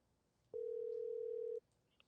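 A telephone line tone during a call to a friend: one steady, clean tone lasting about a second, clear against a quiet background, followed by a faint click.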